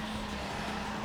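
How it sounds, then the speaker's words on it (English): A sports car's engine drones steadily in the racing game Need for Speed Underground, a continuous low hum with a faint tonal whine, with no other sounds over it. "God, I love the way this car sounds."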